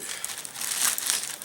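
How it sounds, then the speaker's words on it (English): A Ziploc plastic bag crinkles close up in a kitchen, a steady bright rustle with a few sharper crackles and no talking. "we're going to throw that in a Ziploc bag"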